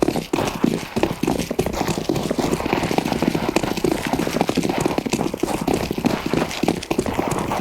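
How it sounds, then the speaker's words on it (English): Rapid, dense footsteps in a video game, loud and continuous with a galloping, clattering rhythm throughout, no talk over them. "I hear nothing but footsteps"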